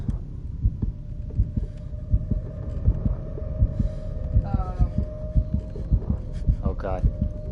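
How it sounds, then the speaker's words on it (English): A steady, throbbing heartbeat pulses loudly and evenly throughout a tense Call of Cthulhu horror game scene, layered over a low hum, with brief faint other game sounds. "You hear the heartbeat"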